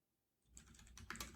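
Quick bursts of typing on a computer keyboard, close and fairly quiet, starting after a brief silence and building into a rapid run of clacking keystrokes with a few sharper hits near the end.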